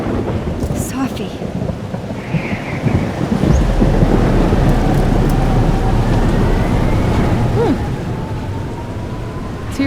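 Heavy rain roars in the video game Life Is Strange Double Exposure, with a deep rumble of thunder swelling midway and lingering beneath the downpour.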